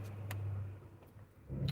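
A car engine idling and creeping forward while pulling out into traffic, a steady low hum with slight surges and a rise near the end, heard from inside the vehicle.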